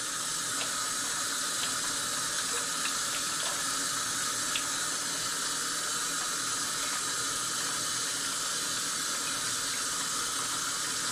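Water runs from a kitchen tap into a sink, a steady, moderately quiet stream with no break, set up for soaking bologna in warm water.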